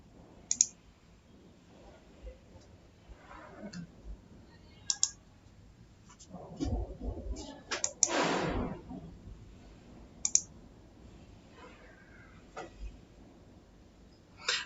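Sharp mouse clicks from right-clicking and deleting tables in Power BI, scattered singly and in short pairs across a quiet room background, close and fairly soft, with no talking.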